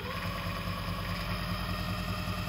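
A 48V 500W Chinese brushless BLDC motor drives an Emco Unimat SL1000/DB200 lathe through a pulley, running on 24 volts with a steady, even whir and hum that holds at one pitch throughout.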